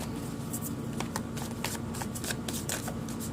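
Tarot cards shuffled steadily by hand for a few seconds, a continuous close riffling and slapping texture with brief crisp flicks, no voices.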